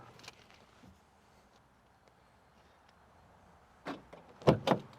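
A door swinging shut indoors, a couple of close knocks and a firm thud of the latch near the end after a quiet room.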